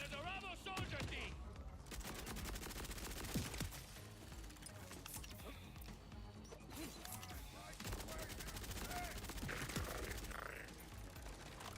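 An enemy machine gunner in Borderlands 4 rattles off dense, rapid bursts of automatic fire that run almost continuously for seconds, mixed with other gunshots and battle clatter, loud and close.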